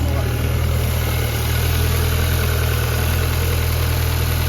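A Volkswagen Polo engine, long unused and bought damaged, idles steadily right after starting, with a loud, continuous low droning rumble and no breaks, close by.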